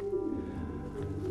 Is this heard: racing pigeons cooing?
yes